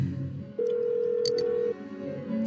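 A single steady phone tone holds for about a second over a soft low background, with brief clicks around it, as a call is placed in the Persona 4 Golden video game.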